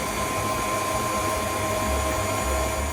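A mixer with a dough hook kneads sticky honey gingerbread dough at low to medium speed, giving a steady, close motor whir with a faint low rhythmic thump throughout and no voices.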